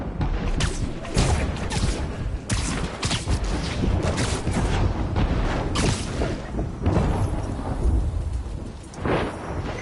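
Thunderstorm in a Spider-Man video game, with heavy rain and repeated thunder cracks and rumbles that stay loud and close throughout, with no talk.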